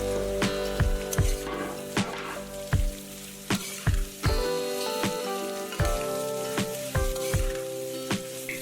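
Sliced onions sizzle in a pan with half-fried garlic-ginger paste, cooked without oil for a pork dry fry. A steady frying hiss is broken by regular sharp scrapes and clanks of stirring.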